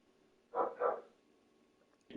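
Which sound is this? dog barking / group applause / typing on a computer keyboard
dog barking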